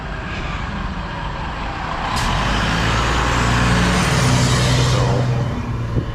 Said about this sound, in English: The fire truck.